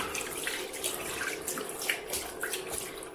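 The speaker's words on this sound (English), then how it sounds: "So just rinse out the sink" Tap water runs steadily into a sink while it is rinsed out, a close, continuous hiss and splash with small irregular spatters throughout and no voices.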